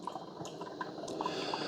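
A Braun KF7370 coffee maker running descaling solution gives soft, scattered drips and trickles of liquid, with a few brighter plinks over a low, steady watery hiss.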